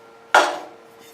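A hammer strikes once, driving a small metal tab into a piece of wood while framing a garage loft. The sharp metallic crack is close and loud, with a brief ringing tail that fades quickly.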